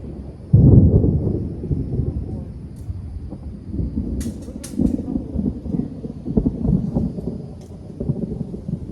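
Thunder from an approaching storm rolls low and heavy at a fair distance, with a deep rumble swelling early and continuing through the clip, mixed with a few faint sharp ticks and some wind noise.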